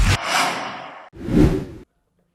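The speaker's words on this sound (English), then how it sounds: "if I change from one shot to another shot, I'll have a little whoosh" Two quick whoosh sound effects used for video shot transitions, each a swelling airy swish that fades out, close and clean with no talk.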